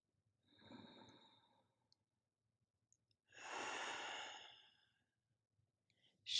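A slow, audible cleansing exhale during a slow-flow yoga posture practice, two soft breathy sighs a couple of seconds apart, close and quiet in an otherwise still room.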